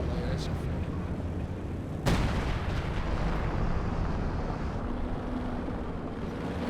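Artillery thuds through a Company of Heroes 2 multiplayer battle, with one sharp, loud blast standing out above a constant rumble of distant shelling and gunfire, and a commentator talking over it.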